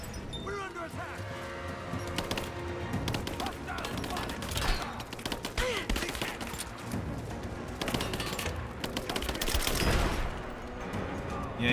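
Sustained gunfire rattles through a firefight in Rise of the Tomb Raider, dense bursts of automatic fire and single shots overlapping at close range, with a voice talking over the clash throughout.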